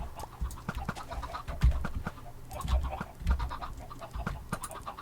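Chickens on a chicken farm in Minecraft cluck and squawk in short, irregular bursts at a moderate distance, several birds overlapping, with no speech.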